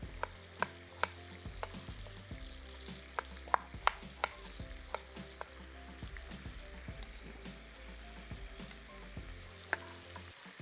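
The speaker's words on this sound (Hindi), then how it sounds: "चिकन को थोड़ी थोड़ी देर के बाद चलाते रहें।" Chicken fries in a pan and is stirred now and then, giving a soft, continuous sizzle broken by sharp scrapes and clinks of the spoon against the pan.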